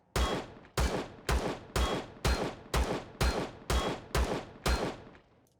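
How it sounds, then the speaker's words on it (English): Pistol gunfire in the space survival game Empyrion Galactic Survival: ten sharp, loud shots fired one after another at an even pace of roughly one every half second, with a short tail after each and no voices. "I'm going to use up the pistol ammunition."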